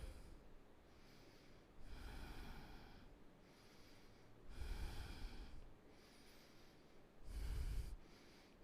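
Three slow, deep breaths during a yoga stretch, each a long audible inhale or exhale through the nose, close and fairly quiet, separated by near-silent pauses.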